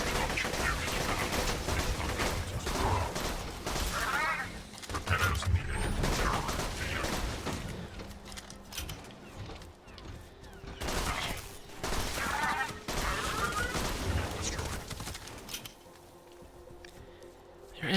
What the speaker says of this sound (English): There is somebody up top taking shots at me, which is not helpful.